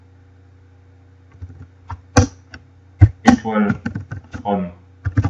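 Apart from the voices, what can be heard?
typing on a computer keyboard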